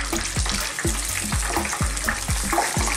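Chicken pieces sizzling in hot oil in a Filipino-style fried chicken recipe, a steady close frying hiss with repeated low thuds as the pieces are stirred or lifted.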